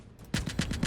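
A 300mm cannon fires in the Space Engineers video game, a quick burst of five or six heavy booming shots in rapid rhythm after a brief quiet start.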